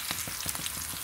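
Onions and garlic fry in a pan with a dense, close crackling sizzle, sharp pops repeating rapidly over a constant hiss, with no voices.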